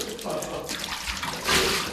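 Shower water runs steadily after a day of tree-removal work, a broad hissing spray that swells louder near the end, with a voice talking faintly underneath.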